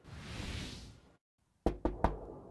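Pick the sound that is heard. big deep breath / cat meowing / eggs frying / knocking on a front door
knocking on a front door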